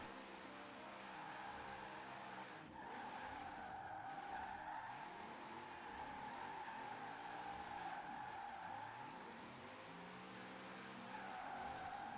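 Cars drift in the Forza Horizon 4 racing game, using Formula Drift cars on Fortune Island: a steady engine roar with long tire squeals and skids that sweep on and off, near and loud throughout, with no talk.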